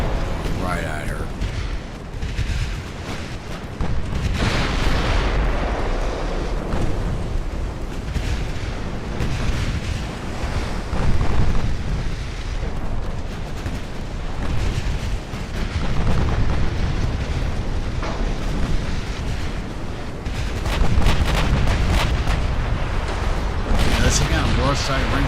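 Battleship broadside artillery fire in Ultimate Admiral: Dreadnoughts, repeated heavy booms and rumbling blasts rolling through a long naval battle, with someone talking over much of it.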